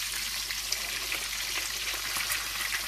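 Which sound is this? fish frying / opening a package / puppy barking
fish frying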